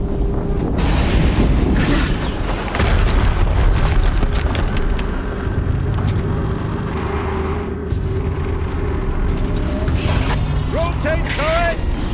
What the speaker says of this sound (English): Another explosion.